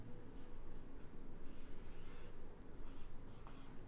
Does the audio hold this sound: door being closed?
no